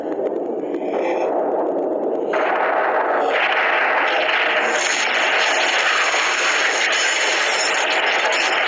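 A yacht is blown up, producing a loud blast that gives way to a sustained roaring, crackling rumble that builds and continues for several seconds, with no voices.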